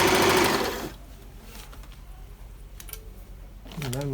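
A Bernette b35 sewing machine stitches in a loud, dense burst lasting under a second, then falls quiet with faint ticking; a voice is heard briefly at the end.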